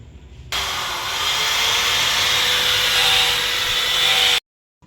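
Concrete drill bit boring into concrete near a chimney during metal cladding installation, a loud sustained grinding whir for about four seconds that starts and cuts off abruptly, with no talking.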